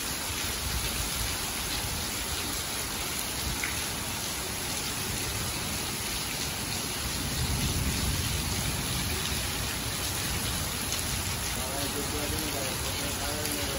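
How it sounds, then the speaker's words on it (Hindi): Heavy, steady rain pours down in the city of Birganj, Nepal, a dense unbroken hiss of water that stays loud and even throughout with no pauses. "आज काफ़ी दिनों के बाद काफ़ी तेज बरसात हुई है"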